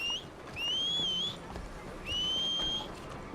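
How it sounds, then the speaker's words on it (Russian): Whistling calls a horse in the video game Red Dead Redemption 2: a short chirp, then two sustained, clear whistles with a slight rise, loud and close, with no talking. "Можно пока лошадку посвистеть"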